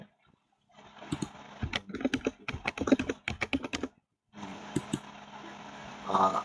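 Fingers tapping a computer keyboard to type a password: a quick run of close, crisp keystrokes, a short pause, then a few more taps over a faint background hum.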